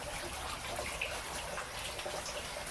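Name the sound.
water from aquaponics pump pouring out through a big tube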